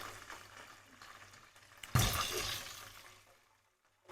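Prawn tempura frying in hot oil: a faint bubbling hiss, then a sudden louder surge of sizzling that slowly fades to near silence before a brief final burst.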